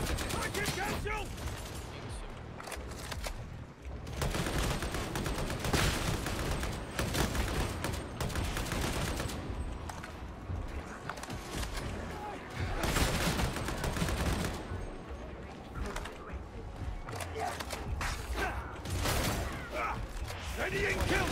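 Video game gunfire crackles in dense bursts of rapid shots and heavier booms over about twenty seconds, with short pauses between volleys. Voices talk through much of it.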